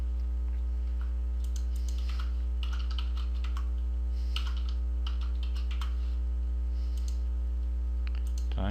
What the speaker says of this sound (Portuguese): então digitei a senha errada